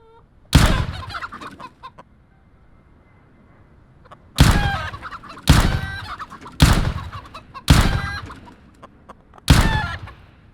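Chickens in a video game let out six loud, abrupt squawking clucks. They come in quick succession after one early call, each sharp burst trailing off into faint background ambience.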